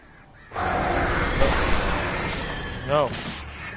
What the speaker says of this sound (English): I'm getting attacked by birds.